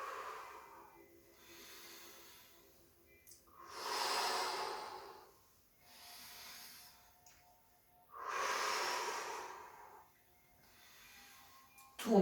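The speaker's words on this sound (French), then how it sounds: "Inspirez, puis soufflez lorsque vous regardez loin derrière" Slow, deep breaths during a breathing and joint mobility exercise, with long airy inhales and exhales alternating in an even rhythm, close and soft, with nothing else heard.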